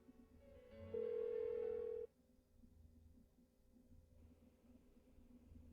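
Telephone ringing in the game Persona 4 Golden, a single loud electronic ring burst that cuts off abruptly, followed by quiet low background hum with no answer.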